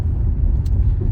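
Car interior on a drive home, a steady low road rumble and engine drone, loud and close, with no one speaking.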